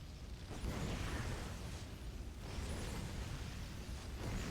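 Siege tanks shelling in a StarCraft II league match: dense, roaring explosive blasts with whooshing bursts that repeat at roughly two-second intervals, loud and sustained with no talk over them.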